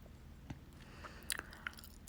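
Gum being chewed right up close, soft wet clicks and smacks scattered irregularly over a quiet hiss, with a few sharper snaps standing out.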